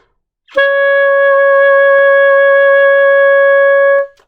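An alto saxophone holds a single sustained high A sharp, starting cleanly and ringing steadily for several seconds before stopping, loud and alone.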